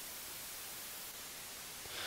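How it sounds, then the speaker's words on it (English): A steady, even hiss of white noise plays alone with no talk, broad and uniform, rising slightly in loudness at the very end. "So there is white noise."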